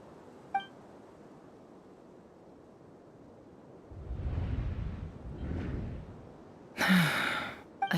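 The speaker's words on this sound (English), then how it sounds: "I heard Yehuda gasp" A sharp gasp from a female character in the video game Genshin Impact, a short breathy intake rising near the end over a low wind-like rumble.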